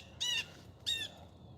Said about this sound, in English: This blue jay's not happy.